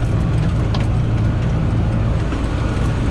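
A John Deere 4640 tractor driving over a hay field during raking, its diesel engine a steady loud low rumble heard close from the cab, with faint rattles.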